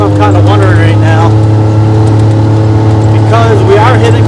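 A John Deere Gator engine held at high revs around 6,000 RPM in neutral while standing still, a loud steady whine with someone talking over it.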